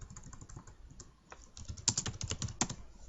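Fingers type on a computer keyboard in a steady stream of close, crisp clicks that grow louder and quicker partway through, with no one speaking.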